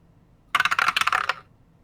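Dice rolled on a table, a quick clattering run of small hard clicks and bounces lasting under a second, close and clear against near silence.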